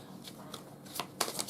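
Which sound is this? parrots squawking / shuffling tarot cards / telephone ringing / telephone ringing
shuffling tarot cards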